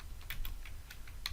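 Someone types C# code on a computer keyboard: six or seven distinct, crisp key clicks at an uneven pace, close to the microphone, over a low background hum, with no talking.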